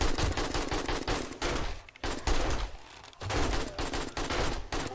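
Rapid automatic gunfire from a weapon in 7 Days to Die, loud, close bursts of shots with two short pauses, firing continuously until the gun runs dry.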